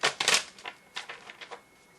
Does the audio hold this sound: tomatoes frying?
no